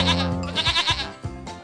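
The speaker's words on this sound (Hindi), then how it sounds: "मुझे तो बकरी की आवाज सुनाई दे रही है।" Goat bleating several times in a row, quavering calls that rise and fall, fairly close and loud with no talk over them.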